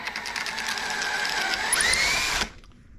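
Drill bit boring a hole through a board with an adjustable circle cutter set to the board's thickness, a steady whining grind for over two seconds that rises in pitch near the end as the bit breaks through, then stops abruptly.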